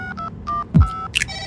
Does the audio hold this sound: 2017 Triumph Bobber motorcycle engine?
no